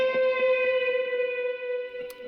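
An electric guitar note pre-bent a half step on the 7th fret of the high E string and then released, sounding alone as a sustained effected tone, with a faint pick click near the end.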